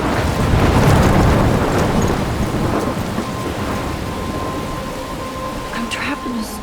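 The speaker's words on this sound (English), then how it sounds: "I'm trapped in a storm?" A thunderstorm rolls through in the game Life Is Strange: a loud, deep thunder rumble swells and slowly fades over steady rain, with faint tones near the end.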